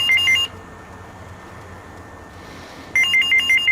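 A telephone rings in electronic trilling bursts inside a house, with a pause of quiet between two rings, loud and close.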